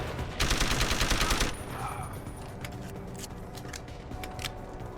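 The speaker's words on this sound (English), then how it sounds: "that was some bad shooting" A rapid burst of automatic gunfire in the video game Deus Ex: Human Revolution lasts about a second, loud and dense, followed by scattered faint clicks and ticks.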